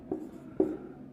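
Two chalk strokes on a classroom blackboard during a Hindi physics lesson, each a short scratchy burst roughly half a second apart, close and fairly quiet with no talk over them.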